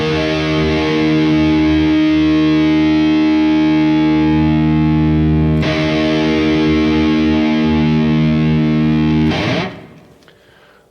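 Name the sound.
distorted electric guitar low E string in E-flat tuning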